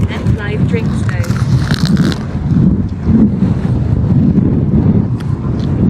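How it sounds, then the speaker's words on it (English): Wind on the seaside coast at Blackpool buffets the microphone with a low, heavy, continuous rumble, while a person talks over it. "The wind's trying to take my fish and chips away."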